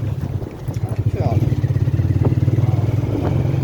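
A motorbike being ridden, its engine pulsing loudly and close with a steady throbbing rhythm that builds after the first second, while voices talk faintly underneath.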